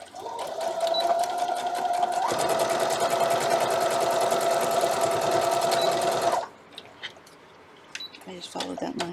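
A sewing machine stitches straight across a fabric seam while piecing a dog house quilt block, a loud, close, continuous rattling whir that picks up speed partway through, then stops abruptly, leaving quiet handling noises.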